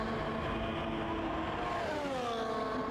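Racing cars come down the straight in a motorsport video game with DRS overtaking, their engines a faint, steady whine whose pitch slides gradually as they pass.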